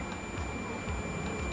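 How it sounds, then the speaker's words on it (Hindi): A multimeter gives a continuous high-pitched beep while testing continuity on a desktop computer motherboard's VRM section, a steady, faint electronic tone over low background noise. "देख सकते हैं मल्टीमीटर में कि बीप आवाज़ आ रही है मल्टीमीटर में।"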